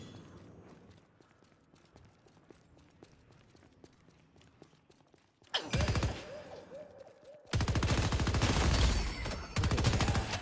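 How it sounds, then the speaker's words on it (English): Video game weapon fire bursts out in loud, dense volleys after a quieter opening of scattered clicks and faint sounds. The shots are ricocheting Tesla bullets in the Valve MOBA Deadlock. "ricochet Tesla bullets for the win"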